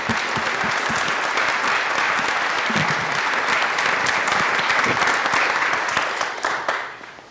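An auditorium audience applauds at a lecture by architect Stanley Tigerman, dense, sustained clapping from many hands that carries evenly and fades out at the end.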